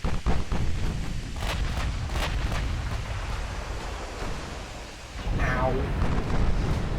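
Naval shells striking a warship in Ultimate Admiral, heavy booming impacts and rumbling blasts with a brief whooshing streak near the end, loud and close, with a voice talking over it.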